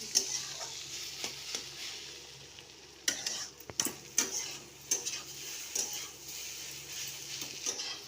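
Eggs poured over softened fried onions in an oiled pan on a gas stove for homestyle egg bhurji, stirred with a spatula: a steady soft sizzle with scattered scraping and clinks of utensil on pan, close and fairly quiet.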